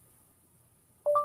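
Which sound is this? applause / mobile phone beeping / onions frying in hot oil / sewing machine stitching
mobile phone beeping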